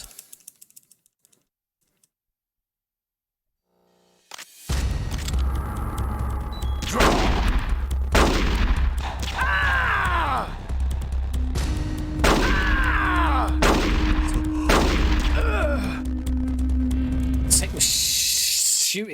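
Gunshots and bursts of gunfire during the Ocelot boss fight in Metal Gear Solid: The Twin Snakes, with loud sharp shots every second or two over steady game music and ambience after a quiet opening.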